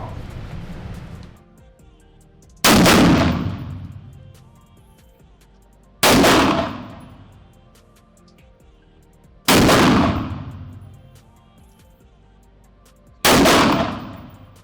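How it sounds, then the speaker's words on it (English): A carbine fired on an outdoor shooting range: four loud, sharp reports spaced roughly three to four seconds apart, each followed by a rolling echo that fades before the next shot. "I just want you to fire 3 rounds"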